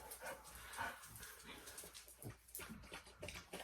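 A small pet puppy makes close dog sounds, brief yips and whimpers, over a busy, noisy indoor background.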